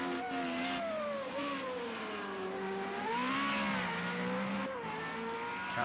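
A Formula Renault race car engine in Project CARS at the Zhuhai circuit, a continuous buzzing drone that rises and falls in pitch through gear changes, heard alone without commentary.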